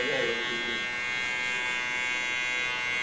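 An electric hair clipper buzzes steadily as it cuts a short zero-style haircut, a close, continuous whine with a louder start, no talk heard over it.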